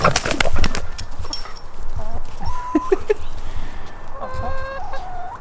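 Backyard hens cluck and squawk close by while pecking at and hopping for fresh peaches, with scattered thumps and rustles between the calls.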